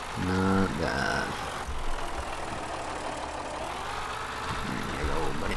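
An old, worn tractor engine idles in Farming Simulator 15 with a steady low rumbling drone, joined briefly at the start by tonal beeps and chimes from the game.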